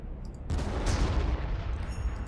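Gunfire and explosive blasts in the Warhammer 40,000: Armageddon strategy game hit suddenly as a dense, loud barrage of overlapping shots and booms, then keep up as continuous battle noise.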